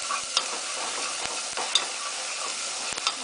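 Garlic frying in olive oil over medium-high heat makes a constant hissing sizzle, with a few soft taps and clicks of stirring scattered throughout, close and with no talking.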